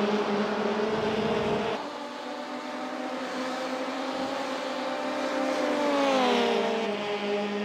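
Race car from a VW Beetle / Ford Fiesta series lapping Road Atlanta, engine droning steadily at high revs with harmonic whine, pitch dipping on a gear change then climbing again, continuous and fairly close.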